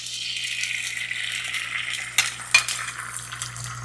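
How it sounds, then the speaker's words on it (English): An egg fries in olive oil in a skillet, a steady close sizzle with faint crackle, broken near the end by a couple of sharp utensil clicks against the pan; no talking. "Adding a little bit more olive oil to our skillet. This time we're going to fry our egg."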